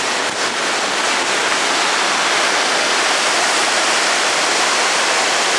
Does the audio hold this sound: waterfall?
yes